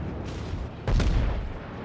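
A battleship's main guns fire in the naval game World of Warships, one heavy booming salvo bursting out loudly midway over a steady rumbling background.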